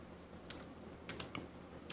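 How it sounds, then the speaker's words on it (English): A handful of quiet keystrokes on a computer keyboard as a keyword is entered, sparse clicks scattered over two seconds against a faint room hum, with no speech. "Okay, now you can type another keyword for session."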